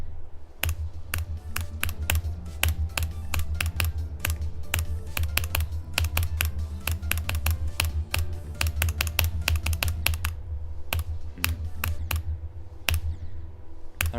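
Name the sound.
computer keyboard keys clicking while playing Geometry Dash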